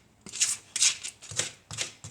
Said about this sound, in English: Just cut them in 3 or 4 halves and then just slice them into little small pieces.